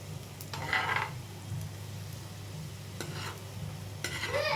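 Kids' snacks frying in a pan and being stirred, with scraping bursts from a utensil against the pan over a continuous low sizzle and hum; no one speaks.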